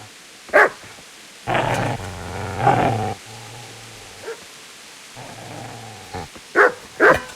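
Dog barking and growling in the medieval video game Kingdom Come: Deliverance: sharp close barks at the start and end, with sustained low growls and snarls between them, no talk over them.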